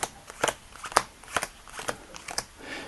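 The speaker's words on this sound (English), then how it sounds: "we're going to deal out the cards one more time here" Playing cards are dealt out into piles, each card landing with a crisp snap or flick in an irregular rhythm, close and fairly quiet with no talking.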